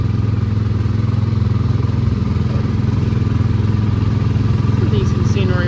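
The engine of a Classic Model T antique car ride at Hersheypark runs loudly in a continuous low, chugging rumble with a steady putter throughout, close up, with a voice speaking over it.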